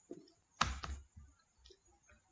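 Computer keyboard keys tapped a few times, close and quiet, with brief clicks separated by pauses.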